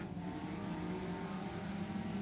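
Race cars roar off together at a green-flag start at Farmer City Raceway, a loud, dense wall of engines revving steadily and close by, with no talk over it.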